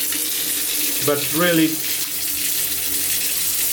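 Water pours steadily from a LIDL Miomare thermostatic shower mixer, a constant broad hiss throughout while someone speaks briefly over it.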